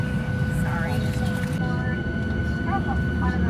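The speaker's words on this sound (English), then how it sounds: "The sun is setting here as we take off." Airliner taking off at sunset, a loud steady low engine roar heard from inside the cabin, with faint voices under the noise.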